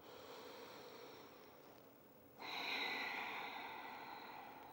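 Deep breathing during a floor yoga stretch, a soft slow inhale followed by a fuller, louder airy exhale, close and quiet with no talk.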